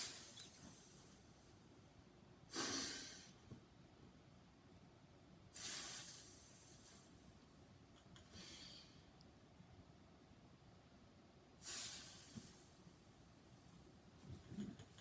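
Breathy exhalations during a belly breathing exercise: four soft, hissing out-breaths spaced about three seconds apart, faint and close, with quiet pauses between them.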